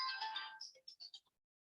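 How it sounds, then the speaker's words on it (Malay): A phone rings in a quiet classroom setting, a short series of bright electronic tone bursts that stops after about a second, fairly faint and alone. "Oh, ada telefon."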